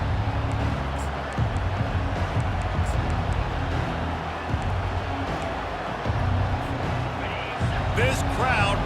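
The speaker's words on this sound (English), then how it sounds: "This crowd bringing an ear-splitting welcome to their visitors." Large football stadium crowd at Ohio State versus Michigan just after kickoff, a dense continuous roar of cheering, with a broadcast commentator talking over it throughout.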